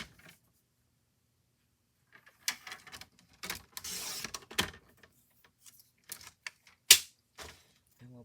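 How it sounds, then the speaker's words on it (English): Scissors snipping paper strips for a scrapbook page, a scattering of short, crisp cuts and light rustles, close and quiet, separated by long silent gaps. "Again, just snipping the end off."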